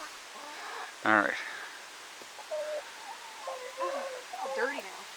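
Goliath, a calm pet rooster, gives a few soft, short clucks and murmuring calls in a coop, with a person speaking briefly over them.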